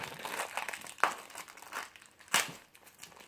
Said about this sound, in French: N'aie pas peur de le déchirer à fond.